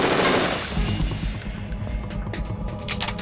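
Rapid automatic gunfire in Metal Gear Solid 2, a loud dense burst of shots at the start, then scattered sharper individual shots and clanks trailing off, close and without talk.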